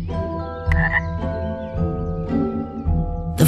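Frogs croaking in a marshy place, several overlapping calls repeating in irregular bursts against a steady low background.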